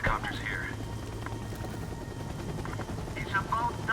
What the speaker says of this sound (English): Looks like the helicopter's here.